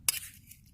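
A utensil scrapes and clinks once against a pan while cooked potatoes are mixed, a short sharp metallic hit followed by a faint soft scrape, close and quiet.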